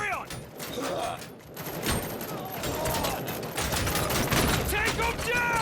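Sustained gunfire from the RoboCop Rogue City video game, loud and dense rapid bursts running the whole time with clanks and thuds mixed in, while voices shout over the shooting.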